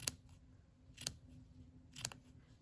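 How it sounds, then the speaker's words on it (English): Three crisp snips of scissors cutting paper strips up to a glue line, spaced roughly a second apart, each a sharp close click-and-slice against a quiet background. "We're going to keep cutting these strips. And just cut right up to that glue line."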